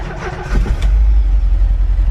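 A VW Vanagon engine cranks briefly and catches, settling into a loud, steady idle with a deep rumble, close by and with no talking.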